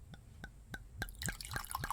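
Sparkling raspberry juice pours into a glass in a home kitchen, opening as separate drips that build into a continuous fizzing, splashing stream, close and moderately loud.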